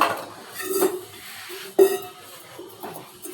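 Dishes clink and clatter as a daughter washes them at home: several separate sharp metallic knocks of pots and utensils set against quiet splashing, close by and with no talk.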